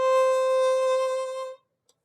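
A violin sounds one sustained low-two note on the A string, bright and steady for about a second and a half, then stops abruptly, followed by a tiny click in silence.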